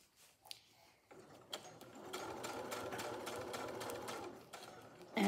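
A sewing machine stitching a large zippered fabric project bag, starting after a few clicks and then humming with a rapid, steady needle rhythm for several seconds, close up with no talking.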